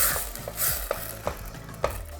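Tomatoes broken up with a spoon in a hot pan, a soft steady sizzle under a few sharp scraping clicks of the utensil against the pan, close and fairly quiet, with no talking.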